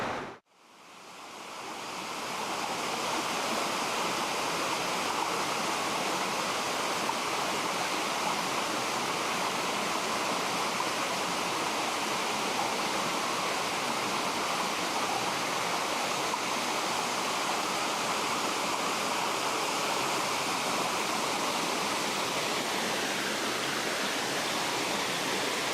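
A creek with waterfalls on Vancouver Island pours in a constant, full rush of water that fills the whole stretch evenly, close and unbroken, with no voices.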